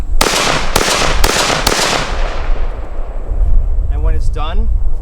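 Four sharp, loud rifle shots from an SVT-40 fired in quick succession at a living history timeline event at Ringwood, each followed by a decaying echo, then someone speaks briefly.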